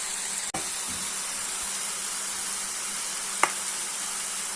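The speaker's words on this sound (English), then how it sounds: "So we add the rice into the sauce." Rice tossed into a pan of pre-mixed sauce for restaurant-style egg fried rice, giving a steady close sizzle and hiss with two sharp clatters of the utensil against the pan, no talking.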